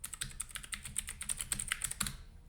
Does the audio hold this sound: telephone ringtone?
no